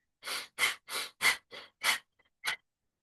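Rhythmic forceful breaths during a Kundalini yoga exercise: about seven sharp, close exhalations at a steady pace, each a short breathy burst with quiet gaps between.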